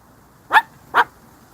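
A pet dog gives two short, sharp barks about half a second apart, close and loud against a quiet room.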